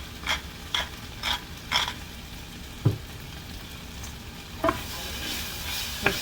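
Black pepper and salt stirred into a sizzling pan, with a steady fry hiss beneath four evenly spaced scraping strokes, followed by a few sharper clinks of the spoon against the pan.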